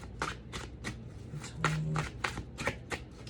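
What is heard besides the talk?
shuffling a deck of tarot cards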